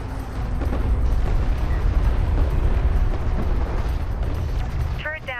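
Artillery cruisers firing in a Homeworld: Deserts of Kharak desert battle, a heavy sustained rumble of booming shots and low roar, with a short radio-like voice chirp near the end.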